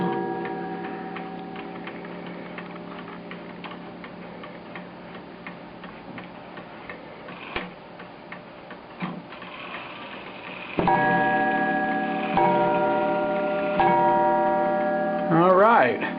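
A black Sessions mantle clock from around 1906 ticks in a steady, even rhythm, with a few louder clunks and ringing tones breaking in toward the end.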